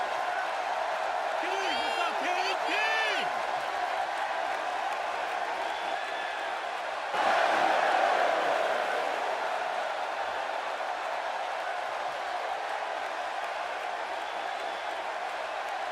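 Virtual arena crowd in the WWE 2K16 wrestling game roars steadily at capacity, with a louder swell of cheering midway and voices talking over the noise throughout.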